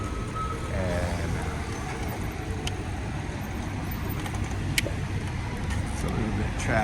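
Steady road traffic rumbles around a rider on an e-bike near a shopping center, with a continuous broadband roar of passing cars and trucks and a few brief clicks and chirps.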